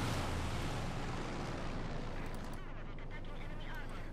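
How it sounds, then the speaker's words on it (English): Air-support strafing runs in Company of Heroes 2, tearing into retreating infantry: a dense, continuous roar of gunfire and explosive booms, loud and sustained throughout with a commentator's voice underneath. "Air support called in, though. Strafing runs, tearing into the infantry as it retreats."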